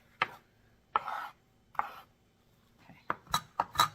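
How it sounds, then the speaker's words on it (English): Knife scraping and tapping on a cutting board as chopped cilantro is gathered, with separate sharp knocks and scrapes, a longer swipe near the start and a quicker cluster of taps at the end, close and fairly crisp. "I'm going to actually use the back of the knife to kind of just gather it all together"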